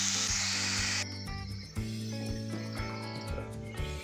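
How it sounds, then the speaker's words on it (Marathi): Fenugreek leaves hit hot oil with browned garlic in a Dhaba-style methi masala, a loud bright hiss that drops sharply after a second, followed by a softer steady sizzle with faint clinks. "त्याच्यामध्ये आपण मेथी टाकून घेऊया. मेथी फ्राय करायची आपल्याला."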